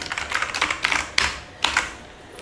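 Fingers type on a mechanical keyboard with red switches in uneven bursts of clicky keystrokes, close and crisp, with brief gaps between clusters and no talking.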